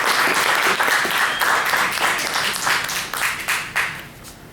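Audience at a poetry reading applauding for poet Austin Alexis at a book release event, steady dense clapping from a crowd that fades slightly toward the end.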